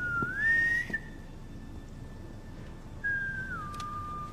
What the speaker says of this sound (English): Oh, it's Natasha's whistle.